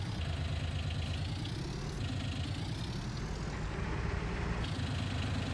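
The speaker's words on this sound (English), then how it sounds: "Let's go get a tractor." Tractor engine in a farming simulator game idling steadily, a continuous low rumbling drone with a faint knocking pulse, even and unbroken throughout, with no voices.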